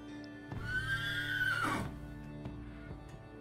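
A horse in The Ancients strategy game gives one loud, drawn-out whinny that rises and falls, followed by softer clattering game sounds.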